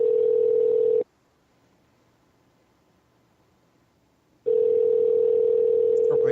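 A steady, loud telephone dial tone drones for about a second, cuts to near silence, then returns just as strongly while a call is placed to an answering machine.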